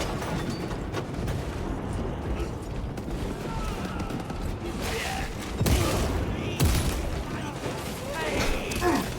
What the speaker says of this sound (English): A bolt gun shooting humans.